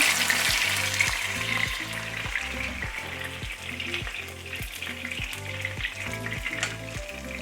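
Strips of chicken breast in a Dollar Tree jerk sauce sizzle steadily in a pan, a close, continuous frying hiss over a low repeating rhythmic hum.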